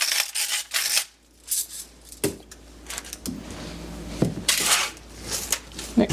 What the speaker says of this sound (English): Mix that around.